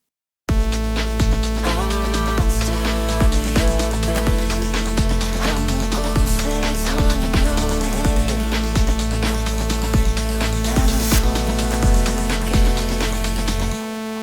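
A Surge XT software synth on its initialized saw preset sustains one MIDI note in A minor, a dense, bright, buzzy tone holding steadily for the whole stretch with no talking.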